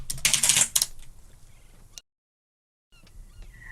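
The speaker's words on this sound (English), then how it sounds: "can you guys just bash your hands on the keyboard and type something" Hands bashing on a computer keyboard: a brief, loud flurry of dense key clatter, followed by a few scattered taps, a sudden cut to silence and soft background noise afterward.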